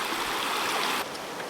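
Water streaming and splashing steadily as a bike crosses a warm-water stream in summer near Pucón, Chile; a continuous loud rush with a slight drop in intensity near the end, no voices.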